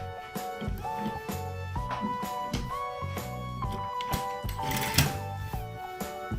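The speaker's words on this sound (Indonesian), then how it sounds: "langsung saya jahit" A sewing machine stitches a sleeve seam joining the underarm to the bodice, running in quick rhythmic bursts of mechanical whirring and clatter with brief pauses between runs, close and clear with no talk.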